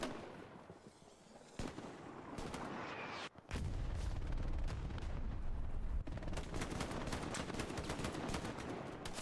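Gunfire in the World War II shooter Hell Let Loose during a competitive league match, with loud sustained bursts of rifle and machine-gun shots. Near cracks overlap heavier distant firing and keep up almost continuously.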